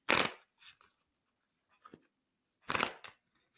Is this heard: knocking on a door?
no